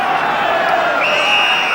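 A 35,000-strong football stadium crowd waiting before kick-off, a steady, dense roar of many distant voices with a shrill rising whistle-like tone partway through, continuous and loud throughout.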